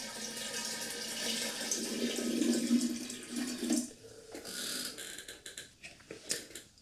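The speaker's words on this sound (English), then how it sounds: "I've got 2 litres of warm water here. I'm going to add about half of it." Warm water pours steadily from a two-litre container into a vessel for about four seconds, then trickles and splashes in uneven spurts as the pour ends.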